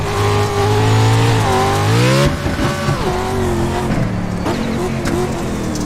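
A Class C Street Stock race car at Charlotte in the iRacing game: a loud engine drone that rises in pitch, drops sharply with a gear change or lift, then revs back up and holds steady, with no talk.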